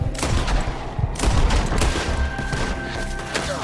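Dense gunfire from a shootout in Red Dead Redemption 2 crackles close and loud, overlapping rifle and pistol shots in a rapid, continuous fusillade.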